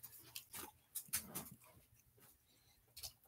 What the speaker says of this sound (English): Those are my puppies.